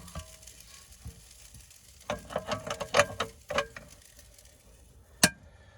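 Food frying on a single gas hob spits and crackles in short, uneven bursts with sharp pops, close and fairly quiet, with a clink of a utensil near the end.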